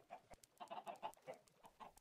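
Minecraft chickens cluck in a quick, irregular run of short, soft chirping calls, several birds overlapping at close range with brief gaps between bursts.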